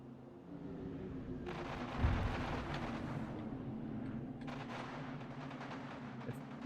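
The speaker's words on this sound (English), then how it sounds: "One of them fired a Banshee bomb." A Banshee bomb fires in the video game Halo 2 with a deep, booming burst that gives way to a long rumbling roar over a steady low engine hum.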